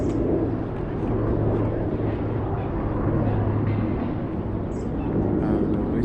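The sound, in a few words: jet plane flying over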